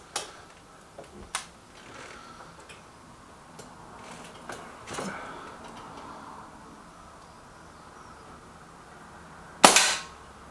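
A Lee Enfield Sentry air rifle fires at a paper target: scattered sharp cracks and clicks spread over several seconds, ending in one loud crisp shot near the end, with quiet gaps between.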